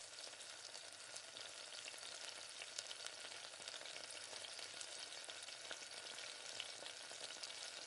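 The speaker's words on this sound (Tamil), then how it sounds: "நல்லா பச்சை வாசனை போகிற அளவுக்கு இஞ்சி பூண்டு நல்லா இந்த மாதிரி வதக்கி விட்டாச்சு" Ginger garlic paste sautéing in a pan for a mutton dish, a steady dense sizzle of frying throughout with faint scraping of stirring, close and continuous with no talk.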